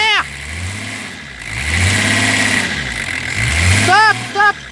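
BMW M51 325 TDS diesel engine revving up and settling back in two rising and falling sweeps over a rough idle, loud and close, with people talking over it.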